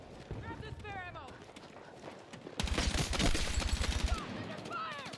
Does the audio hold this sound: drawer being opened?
no